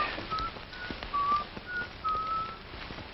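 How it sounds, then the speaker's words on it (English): Someone whistles Yankee Doodle in a scene from the 1942 film Hitler - Dead or Alive, a thin melody of short, slightly distant notes over a soft, hissy background, with no talking. "Listen, somebody's whistling Yankee Doodle."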